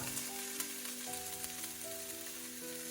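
Aromatic yellow Thai curry paste fries in oil with a steady close sizzle, soft crackles and stirring, while faint tonal hums sit underneath.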